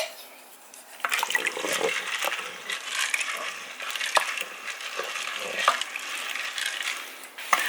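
Dry beans for a slow cooker rattle and patter as they are tipped and shuffled into the pot, with irregular clatters and small knocks at close range.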